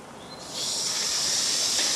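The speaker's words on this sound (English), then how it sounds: "So got the steam going into the Stuart." Steam hisses steadily into a Stuart S50 steam engine, a soft hiss that swells to a loud, constant rush after a moment and holds alone with no talk.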